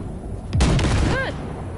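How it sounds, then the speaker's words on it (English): A burst of gunfire blasting car wrecks in Cyberpunk 2077, one loud booming blast with a rumbling tail and ringing metallic whine, close and heavy over a low game ambience. "All right, blast those wrecks."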